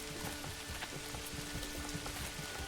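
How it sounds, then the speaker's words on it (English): Rain falls in the medieval city-builder game Manor Lords, a soft, continuous patter of drops with faint scattered ticks. It stays steady and fairly quiet throughout, with no voices over it. "A little rainy, though."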